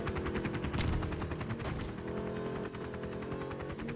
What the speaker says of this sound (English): APC's shooting at you, I think.